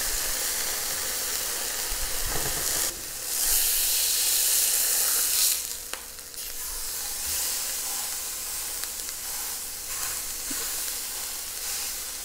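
Spice-seasoned chicken sears over high heat in a hot frying pan, a continuous dense sizzle and hiss with occasional louder surges of spattering and a few faint clinks, close and steady, no speech.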